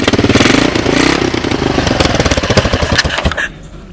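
A 1986 Honda TRX200SX ATV engine fitted with a GY6 12-volt DC ignition, cold-started after long disuse, loud and close with a rapid rough clattering putter that cuts off abruptly near the end.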